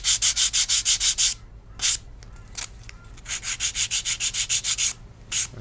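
Model wingtips are sanded with sandpaper in quick bursts of rhythmic back-and-forth strokes, close and scratchy, broken by short pauses before another run of strokes.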